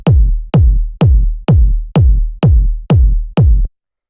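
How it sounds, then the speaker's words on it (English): A big, punchy deep house kick drum sample tuned to D sharp repeats eight times in a steady, even rhythm, each hit loud with a booming low tail, then stops. "it's your standard sort of like big punchy kick you'd hear in a lot of these types of tracks"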